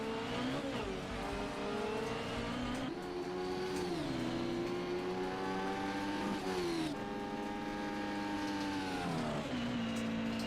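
Formula X race car engines at a sim Le Mans Grand Prix, a continuous high-pitched wail from several cars that rises and falls with gear shifts and braking, loud and unbroken throughout with no talk.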